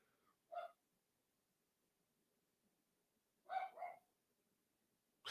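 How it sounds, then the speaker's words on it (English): A dog barks in two short bursts, a single yelp and then a quick double bark a few seconds later, fairly close, with near silence between the bursts. "My dog is going crazy."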